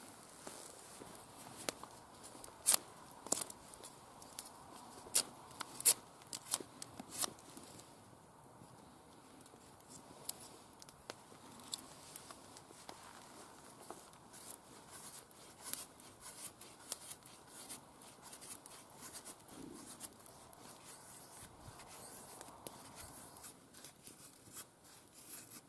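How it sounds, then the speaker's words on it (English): A bushcraft knife shaves a feather stick from a piece of wood, producing quiet, close scraping and scratchy cutting strokes in irregular bursts, with brief sharper scrapes early on and softer, steadier rasping afterward. "See if I can make a feather stick with it."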